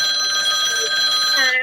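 A phone rings with steady high electronic tones over a constant background, with a faint voice underneath, during a three-against-one mobile game match.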